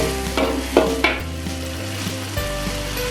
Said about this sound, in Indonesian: kita tumis bumbunya.